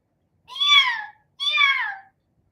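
Two kittens' meows at a door, two distinct high rising-then-falling cries about a second apart, close and clear against silence.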